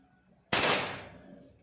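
A single sharp report from a Marauder air rifle fired at its lowest power setting, loud and close, with a quick attack and a decaying tail, no talk.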